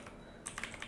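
Quick clatter of keys on a computer keyboard, typing a short word in a run of close, crisp taps after a brief quiet start.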